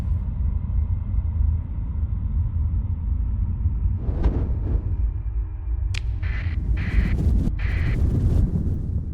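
In the space game Starsector, a storm rumbles low and steady around the ship, with a few sharper crackling bursts and rising whooshes toward the end, and no voices.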